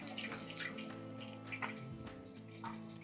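Frying oil trickles and drips steadily off a whole fried turkey lifted from the fryer, a faint continuous liquid patter with no talking.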